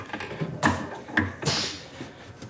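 Carbide end mill, 1/8 inch four-flute, cuts D2 steel on a CNC mill with rough, scraping grinding and a few sharp clicking bursts, close and moderately loud.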